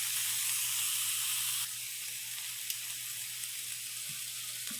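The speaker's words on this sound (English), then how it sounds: "cook my sausages, let them fully cook" Homemade breakfast sausages fry in a pan with a steady, close sizzle and hiss that drops slightly in level partway through, with a low hum under it and no voices.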